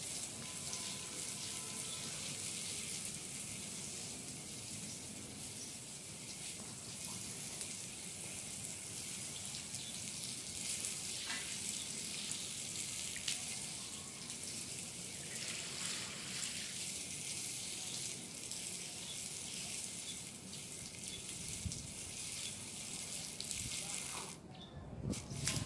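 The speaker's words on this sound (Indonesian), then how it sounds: "hanya disiram kayak gini aja" Water poured and splashed to rinse a synthetic grass and granite home terrace, a continuous broadband hiss and patter that holds steady for the whole stretch and swells slightly near the end.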